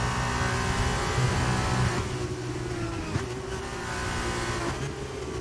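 Race car engines roar in an F2-division esports racing game at the China circuit, a dense continuous drone of several cars with a slight dip and shift partway through, no talking.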